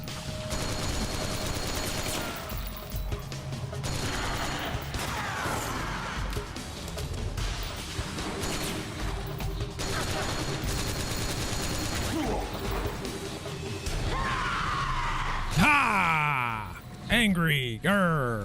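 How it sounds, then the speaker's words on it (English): Enemy gunfire in a Metal Gear game keeps going, a dense rattle of shots and impacts under a continuous stream of excited talk. "She won't let me get up. She just keeps shooting."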